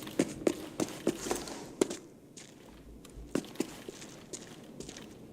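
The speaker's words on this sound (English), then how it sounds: "And I was hearing so many footsteps over there too." Footsteps in the video game Arena Breakout Infinite, a series of crisp, fairly close steps in an uneven rhythm over a low background, with a brief quieter stretch midway.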